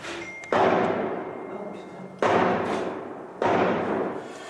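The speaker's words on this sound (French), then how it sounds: "Encore des rafales." Three heavy bursts of gunfire during a nighttime police assault on a building, each a sharp loud onset decaying into a long reverberant tail, spaced about two seconds apart and heard at a distance.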